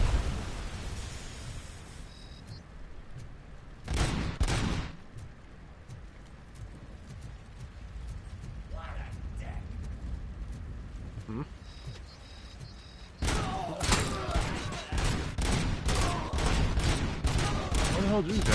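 Bursts of gunfire and grenade blasts from a PS5 shooter game, two heavy booms early on and a dense run of shots near the end, with someone talking over quieter stretches between them.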